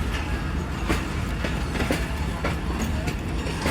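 A train at Lahore Junction rumbles past in dense, continuous noise with rhythmic clickety-clack of wheels over rail joints, loud and close, with a voice faintly audible under the din.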